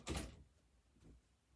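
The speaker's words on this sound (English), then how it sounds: "I'm gonna close the door" A door shuts indoors with one firm thud at the start and a softer knock about a second later, close by with nothing else sounding.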